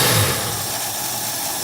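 A car engine idles with its choke still partly closed before warming up, giving a steady low rumble close by with a brief swell at the start, then settling to an even hum.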